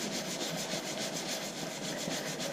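Steady rubbing of a finish into a wood and resin pen, a continuous close friction hiss with a slight pulsing rhythm, fairly loud, with no voice.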